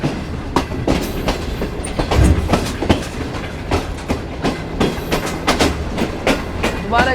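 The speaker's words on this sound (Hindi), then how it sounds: "अब हमारी ट्रेन जो है लूप छोड़ के मैन के ऊपर चढ़ेगी" Shalimar Express passenger train rolling on rails near Nawabshah as it leaves the loop for the main line on a curve: a steady close rumble broken by a regular clickety-clack of wheels over rail joints.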